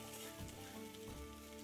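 Rice browning in a pan over fairly high heat gives a steady, close sizzle and fry hiss throughout, with a couple of soft stirring shifts.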